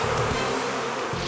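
Live bees buzzing in a steady, dense drone during a Guinness World Record attempt to fill a man's mouth with bees, heard close and continuous for the whole moment with no voices.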